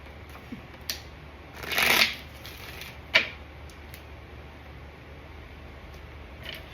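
Tarot cards being shuffled, with a few quick papery riffles and one longer, louder shuffle burst over a quiet room background.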